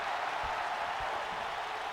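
A wrestling crowd in the video game WWE2K applauds steadily, a dense, even wash of clapping and crowd noise that holds at one level throughout with no talk.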